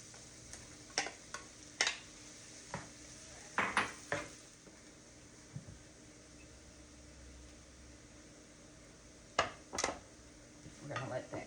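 Onions, peppers and mushrooms cook in a pan with a quiet, low hiss, broken by scattered clinks and scrapes of a utensil against the pan.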